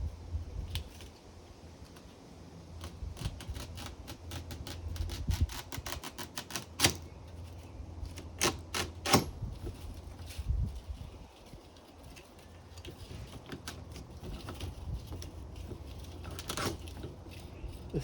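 Scissors snip through excess window screen frame material in a series of crisp, irregular cuts, some in quick bursts and others spaced apart, close and moderately loud over a low background hum, with no one talking.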